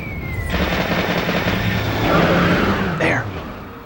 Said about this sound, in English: Palethorn's now going to shoot missiles at you.